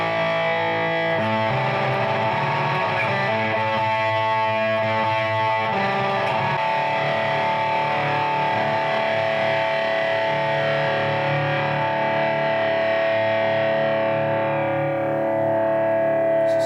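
A Harley Benton Telecaster through a Line 6 Spider 4 amp on its metal setting rings out with heavy distorted chords, sustained and loud, slowly decaying toward the end.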